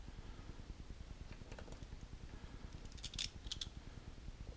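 Scissors snip through paint masking material for an exploding Death Star model kit, a few soft close cuts and crisp clicks standing out over a steady low hum.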